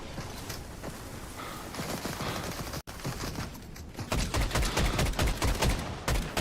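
Rapid gunfire in the video game Fortnite, a string of sharp close shots in quick irregular bursts that grow denser and louder toward the end, with no talking.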